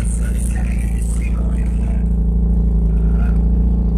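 A 1995 Ford Ranger XLT pickup engine idles with a steady, even low rumble that holds constant throughout, close by and fairly loud.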